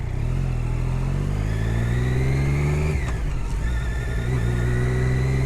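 A motorcycle riding through the streets of Yorkville, Toronto, its engine droning steadily up close with rising and falling pitch as it shifts and accelerates, wind rushing over it.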